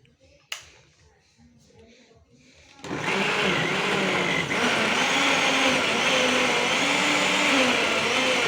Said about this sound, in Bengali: পেঁয়াজ খুব দ্রুত ব্লেন্ড হয়।